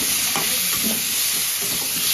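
Spice paste of cumin and green chili sizzling in a hot pan: a loud, steady frying hiss fills the whole stretch, with faint stirring scrapes underneath and no speech.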